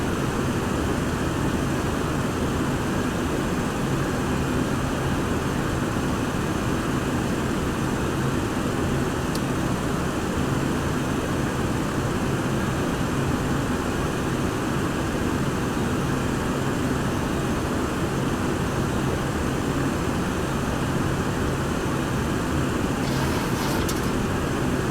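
Boeing 727-100 jet engines throttled back in a flight simulator, a steady broadband roar and hiss holding at an even level throughout, with no voices.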